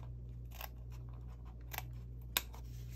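Scissors trim a piece for a grungy, chunky junk journal flip embellishment: a few quick, crisp snips, spaced apart, over a steady low hum.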